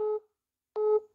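Telephone busy signal: two short, loud beeps of a steady tone separated by a silent gap, heard alone and close.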